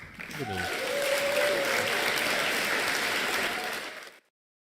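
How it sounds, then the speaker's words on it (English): A crowd bursts into warm applause, steady dense clapping that swells quickly and then cuts off abruptly, with some voices mixed in. "Give yourself the applause"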